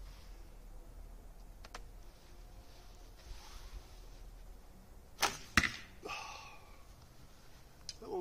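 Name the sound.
arrow hitting other arrows in the target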